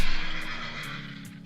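A horse whinnies in a long, wavering neigh that stays fairly loud over steady background noise, with no speech.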